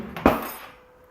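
Bowl set down on a kitchen counter in a single sharp, close knock that rings briefly and fades, with no talking.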